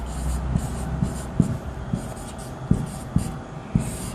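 Someone writes on a board during a Hindi grammar lesson, producing soft scratchy strokes and occasional taps over a low room hum.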